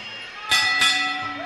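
Boxing bell ending a round at a fight between Timmy Tse and Carl Snell, two sharp ringing strikes with a bright lingering metallic tone over crowd noise, with commentators talking.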